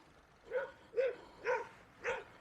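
A dog barks four times at a steady, evenly spaced pace, moderately distant, at a passing recumbent electric trike on an outdoor ride.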